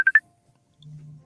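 A short burst of three quick electronic telephone tones comes first, followed after a pause by a low, faint buzz, all close and isolated.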